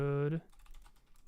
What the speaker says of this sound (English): let's type in Everhood